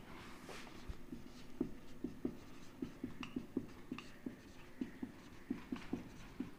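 Chalk or marker scratching on a board during a physics lesson on electric charge and fields, a steady run of short strokes and taps at close range with a hissy room backdrop and no talking.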